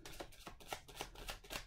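Tarot cards shuffled by hand at close range, about six quick riffling bursts in a steady rhythm, with no voices.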